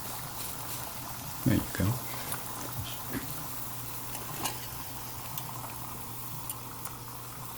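Beef stock, vinegar and butter sizzling on a Blackstone griddle while a rib eye steak cooks, a low steady bubbling hiss with a couple of scraping spatula strokes, and someone speaks briefly over it.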